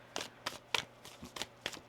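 Tarot cards being shuffled, with six crisp riffling bursts at an even rhythm, close and fairly soft, no voices over them.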